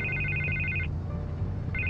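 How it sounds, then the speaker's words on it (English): Telephone ringing in the video game Batman: The Telltale Series, an electronic trilling ring in two bursts separated by a pause, clear and fairly close over a low background hum. "I can't get the phone to stop ringing."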